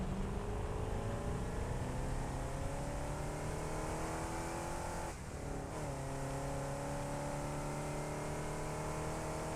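A vehicle engine in the video game Satisfactory drones steadily and loudly with gliding harmonic tones, its pitch shifting up and down with a brief dip midway before resuming.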